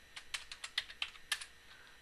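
Rapid, uneven keystrokes on a computer keyboard while entering Cisco switch configuration commands, a dozen or so crisp clicks with brief pauses, close and alone with no talking.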